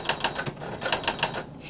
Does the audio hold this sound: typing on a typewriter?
yes